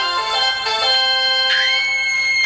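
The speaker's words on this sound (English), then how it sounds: "that's the doorbell." A doorbell chimes inside a home kitchen during cooking: a sustained electronic ring of steady bright tones, with one tone sliding upward midway, fairly loud and clear with no talking.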